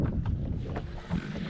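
A Beavertail Stealth 2000 Echo boat turning in place on a lake, heard as a low, steady rumble with gusting wind buffeting the microphone throughout, and no voices.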